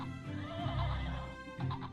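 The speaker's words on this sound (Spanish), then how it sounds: "El caballo corre mucho." A horse neighs in one drawn-out, wavering whinny, near and fairly loud, ending in a shorter rising snort-like call.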